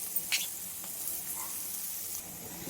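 Chopped onions and green chillies frying in a pan for porata salna, a steady close sizzle and hiss with a few faint stirring clicks, no talking over it.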